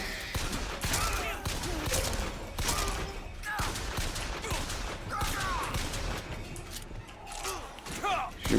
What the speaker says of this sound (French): Qui me tire dessus?